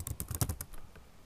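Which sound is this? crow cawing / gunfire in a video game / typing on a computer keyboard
typing on a computer keyboard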